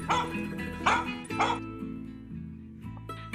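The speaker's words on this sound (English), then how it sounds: "this annoying little dog to contend with whenever you walk on his path" A small dog on a footpath near El Calafate lets out three sharp, yappy barks in quick succession, close and fairly loud, then a faint whine as the barking trails off.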